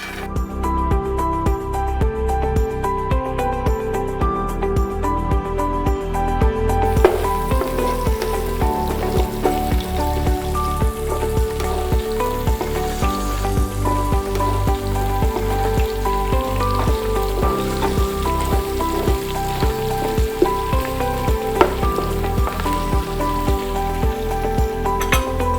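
Green chillies hit hot oil and sizzle loudly and continuously, a dense crackling fry that stays steady throughout with no voices.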